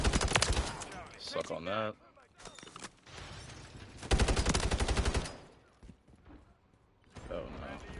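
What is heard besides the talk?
Subverter gun firing in Call of Duty video game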